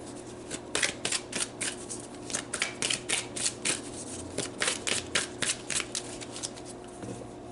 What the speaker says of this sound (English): I did not pull your angel card. Let me pull that right now.